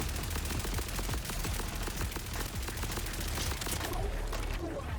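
A fast-firing weapon in Borderlands 4 rattles in a continuous, rapid string of shots for several seconds, loud and close, with faint game sounds beneath.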